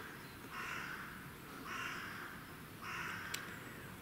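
A crow caws three times at steady intervals, moderately distant, over a constant low background rumble inside the grounds of the old Aincourt sanatorium.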